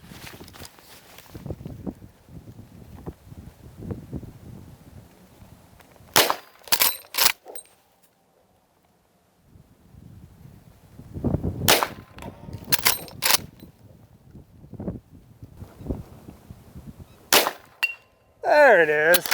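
Ruger-made Marlin 1895 SBL lever-action rifle fired outdoors at steel targets: several loud, sharp shots in spaced clusters, with quiet gaps, footsteps and rustling between them, and brief talk near the end.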